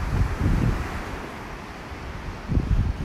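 Strong northwest wind buffets the microphone on a beach at North Naples, Florida, a steady low roar over surf with heavier gusts near the start and the end.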